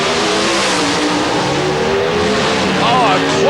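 NHRA drag race cars roaring down the strip at the 1989 Springnationals in Columbus, Ohio: loud, sustained engine howl with rising and falling whine as they pass, under an excited announcer's commentary.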